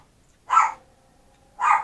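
Two loud, close dog barks about a second apart, a small indoor dog named Gigi reacting to someone walking past the street with their dog, with near silence between barks.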